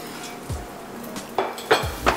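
Soft beet koftas set down onto a plate, giving a few light clinks and taps of utensil on dish that grow a little louder toward the end.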